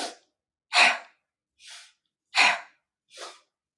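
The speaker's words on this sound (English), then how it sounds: "Inhale, exhale" Slow, deliberate breaths drawn in and pushed out during a guided mindfulness session, five soft airy swells with short silences between, close and clear with no talking.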